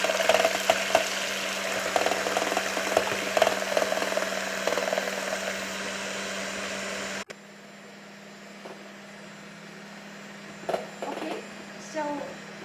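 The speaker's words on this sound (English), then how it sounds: "you should mix the egg whites on a really high setting" Electric mixer whirring on its highest setting, beating egg whites into a dense foam for waffles; a steady loud buzz runs for several seconds, then cuts off, leaving quiet kitchen sounds and faint clinks.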